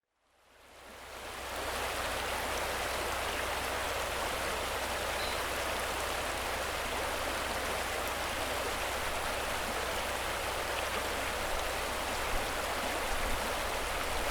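A flowing valley stream runs steadily, a constant broad rush of water that fades in at the start and holds even and moderately close with no voices.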